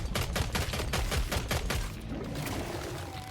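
Rapid automatic gunfire from the video game Resident Evil 2 rattles in a fast, even burst of about a dozen shots, loud and continuous, then stops and leaves a lingering game ambience.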